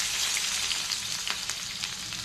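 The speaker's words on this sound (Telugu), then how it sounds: "ఈ విధంగా ముక్కలన్నీ చక్కగా ఆయిల్లో వేయించేసుకోవాలి" Long-cut eggplant slices frying in hot oil give a dense, steady sizzle with small crackling pops, close and continuous, no voices over it.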